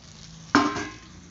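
Capsicum, drumstick, pointed gourd and ridge gourd hit a hot pan with a single sudden sizzle that flares loud and then slowly fades.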